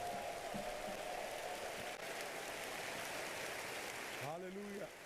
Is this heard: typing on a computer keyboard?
no